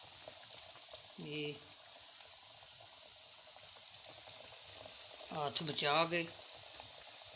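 Vermicelli strands for a nest bite snack are dropped into hot frying oil, giving a soft steady sizzle and crackle that swells briefly toward the end, with a voice speaking over it.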